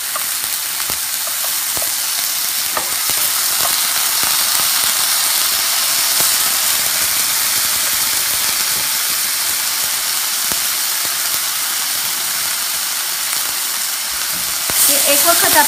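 Fish for tacos fries in a pan with a continuous loud sizzle and hiss lasting the whole stretch, steady and close, with small pops and crackles scattered throughout.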